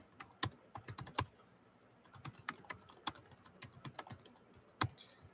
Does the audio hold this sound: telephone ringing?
no